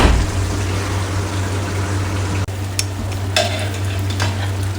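Beef karahi with yogurt cooking in a pan over a low flame: a continuous close sizzle and bubbling with a steady hum underneath and a few light scrapes or stirs toward the end.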